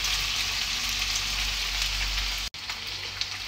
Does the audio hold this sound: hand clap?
no